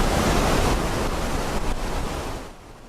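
Missouri River floodwater from the 2011 flood pours out of the Oahe Dam at a record rate, a loud, steady broadband roar of rushing water with no voices, easing slightly toward the end.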